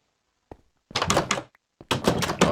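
A wooden door in a Minecraft modpack opens and shuts with short hollow thunks, one faint click followed by two fuller bursts, close and clear with no talk.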